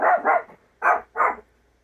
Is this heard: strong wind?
no